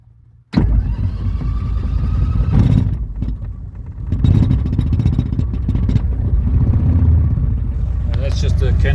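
SD-1 Minisport aircraft engine cranks, then catches and runs loud and steady up close, with a loose canopy rattling over the roar; a voice talks partway through.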